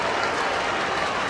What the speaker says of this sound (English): So now the crowd, those that have stayed on this chilly night in Cincinnati, will rise as one.